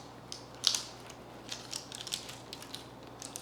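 Boiled yellow potatoes pressed flat with a drinking glass, giving faint, soft crushing and squishing noises with a few sharper clicks of glass, in scattered irregular bursts.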